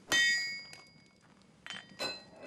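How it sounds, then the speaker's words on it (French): Hammer blows on a metal workpiece to straighten it, two sharp ringing clangs about two seconds apart with a few lighter metallic taps between, close and loud. "quelques bons coups de marteau pour rectifier la pièce"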